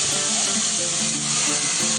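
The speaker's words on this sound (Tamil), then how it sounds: "இந்த நறுக்கி வச்சிருக்கிற இந்த பல்லாரியை சேர்க்கப்படும்" Oil sizzles loudly and continuously as chopped onions fry for vegetable kurma, a steady hissing crackle up close with no talking.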